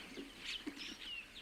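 Assorted wild birds, including doves, glossy starlings, hamerkops and herons, call around farm water reservoirs in Africa: several short chirps and whistles overlap at a moderate distance, with no voices.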